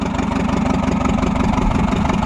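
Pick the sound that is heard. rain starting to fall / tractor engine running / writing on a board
tractor engine running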